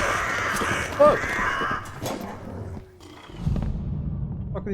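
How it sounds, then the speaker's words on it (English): Crows cawing in the fantasy dungeon game Dark and Darker, harsh calls mixed with rough roaring growls and scuffling game noise, loud and close, no speech over them. "Fuck are these crows?"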